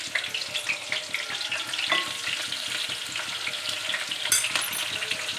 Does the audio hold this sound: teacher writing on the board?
no